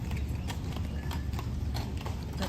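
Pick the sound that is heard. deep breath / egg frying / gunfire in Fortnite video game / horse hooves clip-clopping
horse hooves clip-clopping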